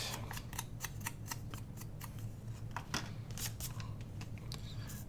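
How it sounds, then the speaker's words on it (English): Pinking shears snip around paper, a quick, regular series of crisp close-up cutting clicks repeating steadily against a quiet room hum. "I think I'm going to use my pinking shears to cut around this"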